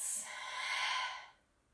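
One deep, slow breath during a vinyasa yoga session, an airy exhale that swells and then fades out, close and soft, with no talking.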